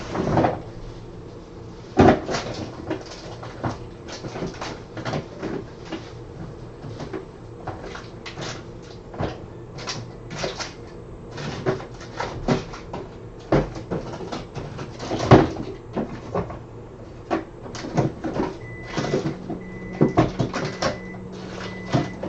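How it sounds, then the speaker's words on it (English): Drawers and cupboards opening and closing during a search, with repeated knocks, slides and clatter of items shifting at close range over a steady rumbling background, no talk. "I know I sound like a rat rummaging through drawers."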